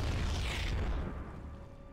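A Terran barracks blows up in StarCraft II, one deep rumbling boom that fades over about two seconds with crackling debris.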